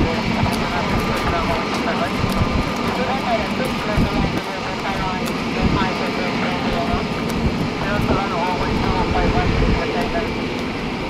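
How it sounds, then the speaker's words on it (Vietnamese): An airliner holds on runway 25L at Tan Son Nhat airport, waiting to take off: a steady, broad engine roar fills the background while a voice talks over it throughout. "chiếc máy bay của chúng ta đã được lệnh lên đường băng 25 trái và chuẩn bị cất cánh"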